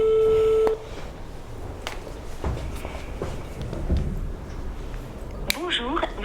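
A telephone ringback tone on an outgoing call sounds briefly at the start, then gives way to a muffled, noisy line with faint thumps and a voice speaking near the end.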